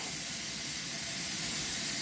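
Steam jets from a pressure canner processing homemade chicken soup, a steady, loud, unbroken hiss that fills the whole moment without voices.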